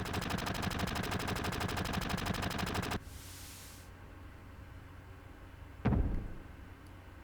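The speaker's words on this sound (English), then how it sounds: "So he shot the guy who was following us." A gunshot in the video game Final Fantasy VII, a single sharp loud report standing out after a stretch of rapid repeating game sound and a quieter lull.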